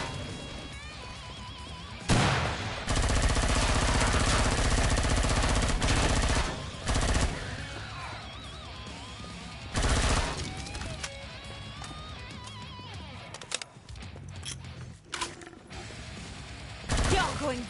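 Gunfire in the co-op shooter Killing Floor 2, loud bursts of rapid automatic fire in several long stretches, broken by short pauses and mechanical clatter, mixed with game sounds.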